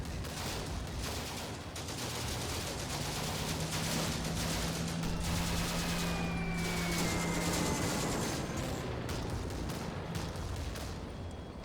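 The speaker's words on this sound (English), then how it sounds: "I heard my anti-aircraft guns are shooting" Anti-aircraft guns fire during a desert battle in Combat Mission: Afrika Korps, a dense continuous barrage of distant bursts and rattling shots with a rising, wailing siren-like tone sweeping through the middle.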